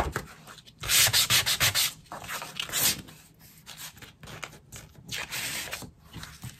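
Embossed background paper being rubbed and sanded by hand in a crafting session, a close, loud scratchy friction in quick bursts of strokes with brief pauses between them.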